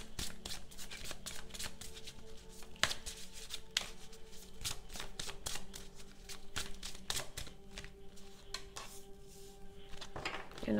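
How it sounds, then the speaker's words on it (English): A deck of tarot-style cards is handled and shuffled close up, giving rapid, continuous riffling and tapping that runs throughout with brief louder snaps. "I'm gonna pull a couple of cards from this deck"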